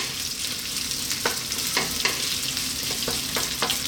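Red onion sizzles steadily in hot olive oil in a wok over high heat, a dense, close frying hiss broken by several sharp stirring scrapes and taps.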